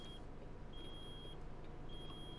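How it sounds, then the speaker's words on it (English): A truck's brake alarm in American Truck Simulator beeps in a repeating high, steady tone with three drawn-out beeps over a low engine rumble. It plays at moderate volume with no talking. "Brake alarm."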